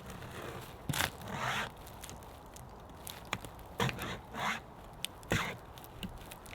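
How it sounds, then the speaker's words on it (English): A cheap survival-kit pocket chain saw rasps through a springy pine branch in short, uneven bursts of scraping and crackling, close up, with pauses between strokes and no talking. "I'm just going to wrap the saw around like that, and I'm now going to zoom in so you can see it hopefully cut"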